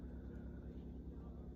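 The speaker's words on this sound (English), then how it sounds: "That's a big aircraft if you can hear it" Deep steady rumbling drone of a large airplane flying overhead, low and sustained with a slight pulsing, heard briefly without talk.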